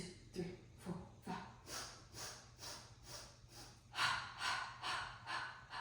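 Steady rhythmic breathing during a beginner classical Pilates mat exercise, close and fairly quiet, with about a dozen even inhale and exhale cycles and a few sharper nasal bursts near the start.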